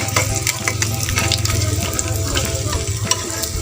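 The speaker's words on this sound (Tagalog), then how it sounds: "hintay na lang po natin siyang maprito yung likod niya para hanguin na po" Kanduli fish sizzles in hot oil, a dense, steady crackle and spatter that continues without a break, close up and with no voices.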